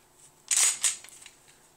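Metallic clicks and a sharp snap as Glock 17 and Glock 19 pistols are safety-checked, with two bright clacks close together followed by a few lighter ticks, all close and with no talk.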